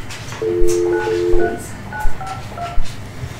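Phone number dialed on a telephone during a county commissioners' meeting: a short run of distinct touch-tone beeps, several quick keypresses in succession, heard clearly over faint room background.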